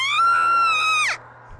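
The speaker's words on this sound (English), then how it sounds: "June's scream pierced through the darkness on the other side." A woman's scream from the visual novel Root Double: one sustained, piercing shriek held for about a second, then breaking downward and cutting off, leaving a faint low hum.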